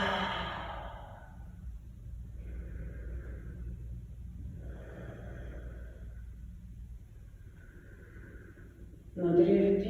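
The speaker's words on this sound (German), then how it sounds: "Schnaufen einmal tief mit der Nase rein. Über das Maul aus." A slow, deep breath drawn in through the nose and let out through the mouth during a yoga flow for the lower back, soft and airy over a low steady rumble, with a brief louder sound at the end.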